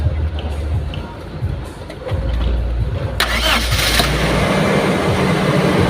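A Toyota Revo engine cranks and catches after an electrical fault at the main switch is repaired, then settles into a rough idle. People talk faintly nearby.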